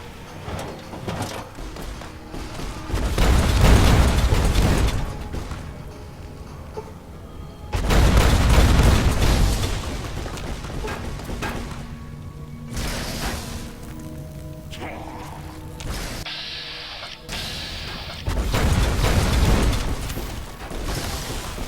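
Rocket explosions from a weapon in the video game Fallout: New Vegas, several heavy booming blasts with rumbling tails, each swelling and fading in turn, loud and close.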